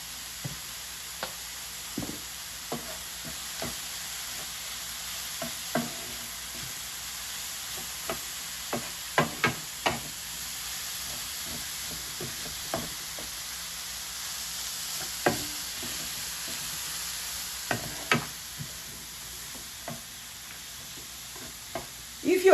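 Cauliflower rice sizzles quietly in a pan, with a soft steady hiss and scattered light clicks and scrapes as it is stirred now and then.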